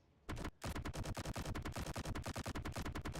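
Minigun-style main cannon of an F-302 fighter in a video game, winding up briefly before unleashing a loud, rapid stream of evenly spaced shots that continues without a break, with no talking over it.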